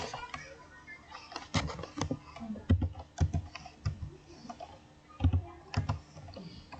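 Computer keyboard keys pressed while typing a Ctrl X, Y and Enter sequence: irregular sharp clicks and taps, close and fairly loud, with some spaced single strikes.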